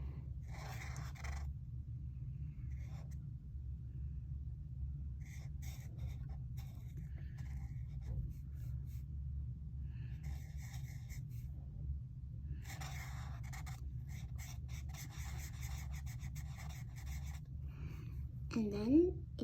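A pen draws a lion's eyes on paper, making soft bursts of scratchy strokes against a low steady hum, with a brief breathy sound near the end.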